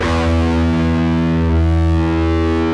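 An electric guitar's low E string in standard tuning rings out as one sustained, distorted note with rich even overtones, loud and close, holding steady for nearly three seconds.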